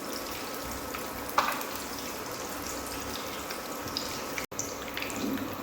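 Raw banana bajji fry in hot oil, giving a steady, even hiss with a small pop or two, moderately quiet and uninterrupted by speech.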